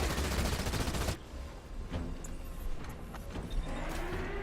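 A temporary turret in Halo Wars 2 fires a dense, rapid stream of shots for about a second, then battle noise continues with scattered distant pops and mechanical sounds.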